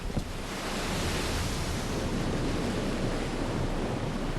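Rushing, surf-like water in the video game Rygar: The Battle of Argus, a dense, steady broadband roar that starts after a brief knock and stays constant throughout.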